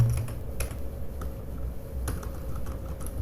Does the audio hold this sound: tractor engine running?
no